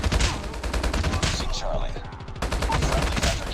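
Rapid automatic gunfire from the Call of Duty: Mobile video game hammers out in a dense, steady stream of shots. It is loud and close, with game effects layered underneath.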